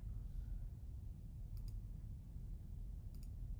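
Two faint, quick double clicks of a computer mouse, spaced about a second and a half apart over a quiet, steady background hum.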